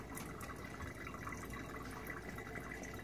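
Tap water running steadily into a sink while hands are washed, a continuous close splashing hiss with small irregular spatters from the hands in the stream.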